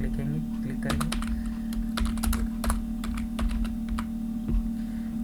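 Rapid clicking on a computer keyboard continues steadily at close range over a constant electrical hum, with quick bursts of keystrokes and brief pauses.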